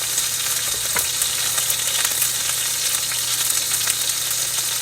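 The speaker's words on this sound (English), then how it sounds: "So you're going to sear that and just let it lay there." A ribeye steak sears in a hot pan, giving a steady, loud, dense sizzle with crackling pops throughout and no talking.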